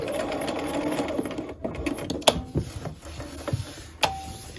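A sewing machine back stitches at the center front edge of a hem on a simple top, a steady close whirring run that stops and restarts in short bursts with clicks and handling noises between.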